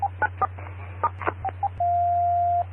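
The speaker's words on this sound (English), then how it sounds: "stand by for tones" Amateur radio repeater tones on a Skywarn weather net, a string of short electronic beeps at differing pitches, then one long steady tone, loud and clean over a low constant hum.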